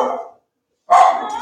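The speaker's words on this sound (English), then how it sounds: "The dogs are going crazy." Dogs bark loudly and close by, a short burst followed by a pause and then a louder, sustained run of barking.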